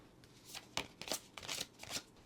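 Tarot cards are shuffled and drawn by hand, a series of quick, close riffling and sliding bursts with soft taps in between, quiet and without talk.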